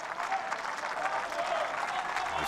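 Tennis crowd applauding on court 10 at the 2018 US Open during a Medvedev–Tsitsipas match, steady sustained clapping from a sizable audience, fairly loud and continuous throughout.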